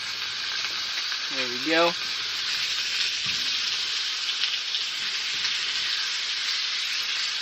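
Pork chops and butter sizzle loudly and steadily in a hot pan inside a camping tent, a dense continuous frying hiss throughout, with a brief spoken remark near the start.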